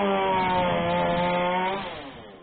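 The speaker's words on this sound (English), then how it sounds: "Workers use chainsaws to clear a path through a labyrinth of broken branches" A chainsaw runs at a steady high whine, cutting through broken branches of a giant fallen pine tree, then its pitch drops and fades as the engine winds down.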